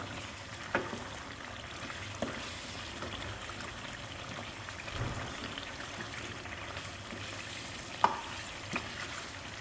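Peshawari mutton karahi sizzles steadily in a wok, with occasional scrapes and clinks of stirring breaking through the continuous frying hiss, close and moderate in level.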